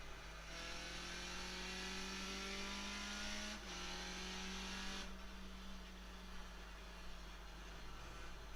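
Skip Barber race car in iRacing at Okayama accelerating hard, its engine note climbing through the gears with brief drops at each shift, loud and close with a steady roar throughout.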